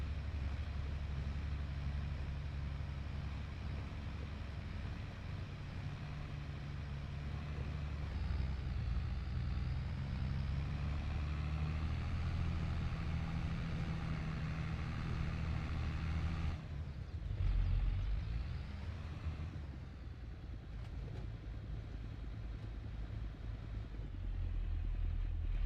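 A tractor engine runs steadily in Farming Simulator 22, heard from inside the cab as a continuous low drone that holds for the whole stretch with slight shifts in load and no talking.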